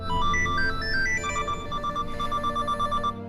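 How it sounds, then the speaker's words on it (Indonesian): A prison warden's mobile phone ringtone plays a bright, repeating electronic melody, steady and fairly loud, ending abruptly after about three seconds with no talking. "Jungwoo mendengar nada dering milik sipir yang sedang dihubungi oleh Minho."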